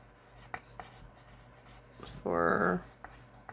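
Scratchy rubbing of a pen writing a note by hand on paper, a short steady burst up close after a few faint taps, with low room noise underneath.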